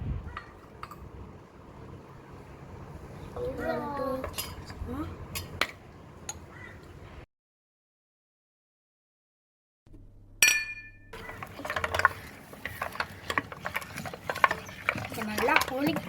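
Ice cubes clink and rattle into a glass of biscuit milkshake with a run of sharp, bright knocks, then a silent gap, then more scattered clinks. People talk under the clatter.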